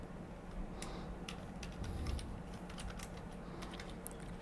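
Rapid clicking of keys on a computer keyboard while coding a Flutter and Firebase chat app, soft irregular taps close by and steady, with one sharper click near the end and no talk.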